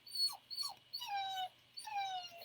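A dog named Helen whimpers close by in a quiet room. She gives two short rising whines, then two longer high, tremulous cries.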